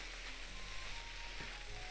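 Lettuce frying in a pan with tuna fried rice, a soft, faint steady sizzle with quiet crackles throughout.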